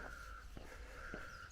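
Raven calls out on a walk, heard as two or three hoarse, short croaking notes, distant and faint over low outdoor background hiss.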